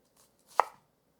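A single sharp knife chop through a shallot on a cutting board, close and clear, a brief crisp strike with a faint tap just before it and no talking.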